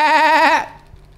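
A human voice imitates a goat, giving a single loud, close, wavering bleat of about half a second that cuts off into near silence.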